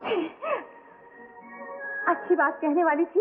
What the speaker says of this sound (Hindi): छींक आ गई।